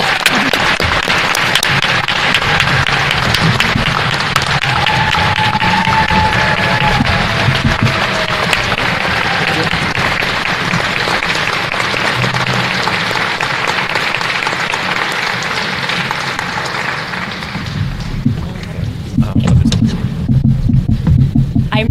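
Sustained loud applause from a banquet audience welcoming a coach into the Hammond Sports Hall of Fame: continuous dense clapping that runs for about twenty seconds before thinning slightly near the end.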